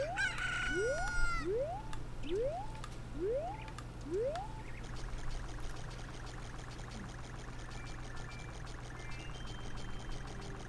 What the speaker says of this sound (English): and then we lost our chicken.